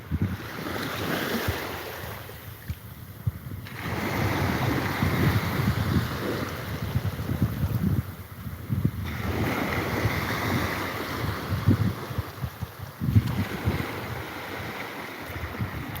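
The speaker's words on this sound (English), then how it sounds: "As these waves come in just before they break, they look like a a liquid prism" Ocean waves roll in and break on a clear-water beach in Thailand, surging in loud washes about every five seconds with a steady hiss of surf and wind between them, no voices.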